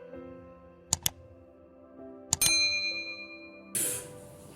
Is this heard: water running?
no